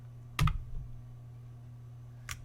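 A computer keyboard gives two quick, close clicks, a Control V press, followed by silence and then one fainter tap near the end.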